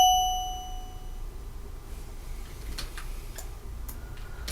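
A single synthesized MIDI note, F sharp, sounding at the start as a bright, bell-like tone that fades away, followed by faint scattered clicks against a quiet background.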